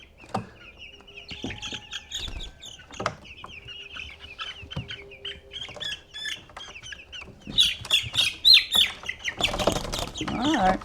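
Meat chickens squawk and cluck loudly and continuously while being carried out of their brooder to pasture, the calls growing harsher and more frantic toward the end with some wing flapping and handling noise.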